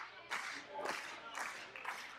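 Crowd clapping in bursts at a 2017 women's wrestling match as Jordynne Grace fires up the audience, uneven rhythmic claps rising and falling over roughly two seconds with a faint background hum.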